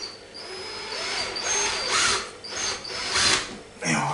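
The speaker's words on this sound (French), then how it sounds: "On pourra faire prendre déjà la visseuse." A cordless drill driving long screws through material: several short whirring bursts of the motor, close and fairly loud, with brief pauses and a faint voice between them.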